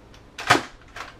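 A PowerBolt Belt Blaster toy dart gun firing at the ground, one sharp snapping pop in the middle preceded by faint mechanical clicks, with further clacks of the mechanism after it, close up.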